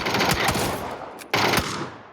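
Video game gun firing in short rapid bursts, a sharp volley near the start and another loud burst after a brief pause, with the rattling fire tailing off.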